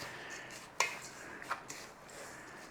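A spoon clinks and scrapes against a dish while stuffing is mixed into a chicken bake, a few light, close knocks over a quiet room background, with no voices.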